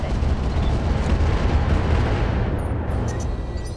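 Artillery fire in the mech combat game Roguetech, a loud, dense rumbling barrage of blasts that rolls on continuously before easing slightly, with a few faint high beeps near the end.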